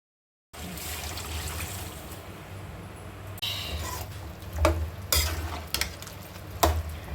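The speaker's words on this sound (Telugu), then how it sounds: "గరిటెతో చికెన్ ముక్కలన్నిటినీ ఈ విధంగా కలుపుకోవాలి." Chicken pieces fry in hot oil in a pan, a steady sizzle interrupted by several loud scraping clanks as a ladle stirs them up close.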